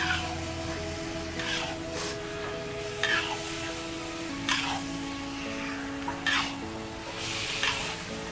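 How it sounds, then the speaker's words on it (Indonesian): Beef and spices for Padang-style beef rendang sautéing in a pan while being stirred, a steady sizzle broken by scraping stir strokes every second or so, close and moderately loud with no talk. "masukkan juga dagingnya. Tumis sambil diaduk-aduk ya."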